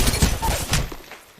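Rapid burst of gunfire in a first-person shooter game, several sharp close shots in quick succession tapering off into a short tail, with no talking over it.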